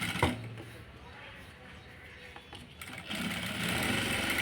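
A sewing machine stitching thread piping runs in a low mechanical whir that rises louder in the last second or so, after a quieter stretch with a few clicks.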